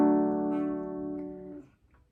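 A single guitar barre chord strummed at the fifth fret rings out with clear sustained harmonics, then decays and is cut off after about one and a half seconds, played alone.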